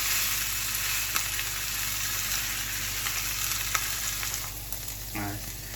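Lamb pieces sear in a hot pan for a Moroccan tagine, giving a loud, steady, crackling sizzle that runs throughout, with a brief stir or shift of the meat near the end.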